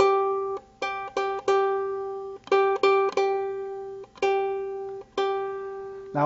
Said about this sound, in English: And our fourth string is the G string, and it sounds like this.